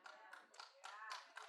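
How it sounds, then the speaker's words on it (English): Two people clapping in a church, a short, faint patter of a few hand claps with slightly uneven rhythm, heard from a distance. "2 people clapped."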